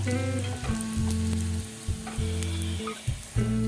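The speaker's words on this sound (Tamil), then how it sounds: "நமக்கு நல்ல பபிள்ஸ் வந்துருச்சு ஒரு பக்கம் நமக்கு நல்ல செவந்து வந்துருச்சு நம்ம அப்படியே திருப்பி போட்டுடுவோம்" Mysore bonda deep-frying in hot oil while being turned over: a steady, close bubbling sizzle runs throughout, broken by brief clicks and scrapes of a utensil in the pan, with no talking.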